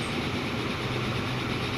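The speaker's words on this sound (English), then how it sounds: "Passenger train is going fine." Passenger train rolling along in Transport Fever 2, a steady, even rumble of rail and wagon noise holding at a constant level throughout with no breaks or voices.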